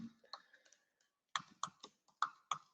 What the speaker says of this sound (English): Why I'm typing here?